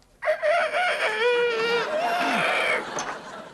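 A man in a studio setting imitates a rooster with a drawn-out, wavering cock-a-doodle-doo, loud and close, rising and falling for about three seconds.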